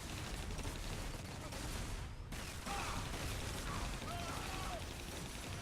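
War Machine's plasma and gunfire in Marvel Heroes Omega: a dense, steady wash of game combat noise with rapid shots and mechanical clatter, brief dropout near the middle, and a voice talking throughout.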